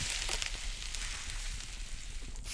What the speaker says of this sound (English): Add the meat to the pan.